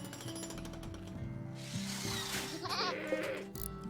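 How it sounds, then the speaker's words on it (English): A baby muffalo bleats in the video game Rimworld, with a few short cries rising amid buzzing, tool-like mechanical game noise and a steady low hum. "It's a baby muffalo!"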